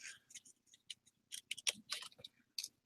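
Scissors snip through paper while butterfly shapes are being cut out, giving quick, close, irregular crisp clicks and slices spaced by short pauses.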